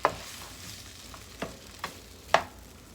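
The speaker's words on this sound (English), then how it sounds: "we just have to cook it a little bit, the green and red pepper" Green and red peppers sizzle in a pan for chicken afritada, a steady quiet fry broken by a few sharp scrapes of stirring.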